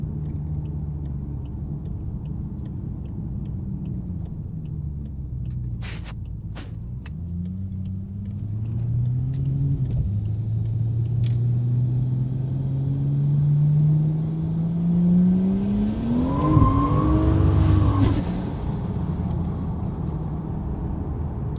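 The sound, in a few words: modified car engine while driving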